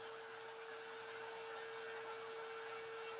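A thermoforming machine heating a sheet of plastic in a workshop gives off a steady, broadband whooshing hum with a constant high tone running through it, unbroken and fairly quiet, with no talking.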